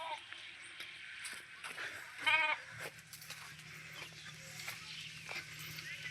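Goats grazing in a dry field give a single clear bleat at moderate distance, amid quiet rustling ambience while someone talks nearby.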